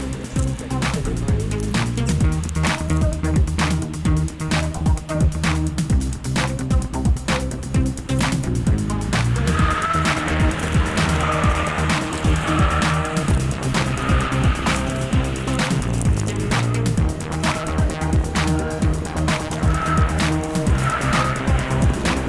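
A Mercedes car slides out at the rear with long tire squeals and skidding under a steady roaring engine, loud and continuous throughout.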